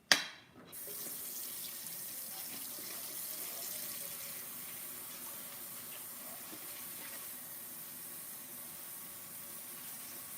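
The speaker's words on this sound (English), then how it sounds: "Put some water in this bowl so that way the mix doesn't like stick in here." Tap water runs in a steady, continuous stream into a mixing bowl while muffins are being made, a brief knock at the start before the flow settles.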